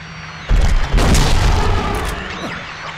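A shotgun fires in Silent Hill 2, one loud, sharp blast with a close second report half a second later, each followed by a booming decay that fades slowly.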